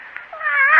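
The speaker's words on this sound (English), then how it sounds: "I've told you never to let that cat in my room" A single cat lets out one short, rising meow indoors, close and clear, swelling in loudness toward its end.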